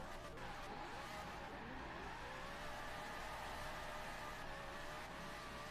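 An FD-style drift car slides around with a faint, steady engine drone and a thin squeal of skidding tires, heard from a distance throughout.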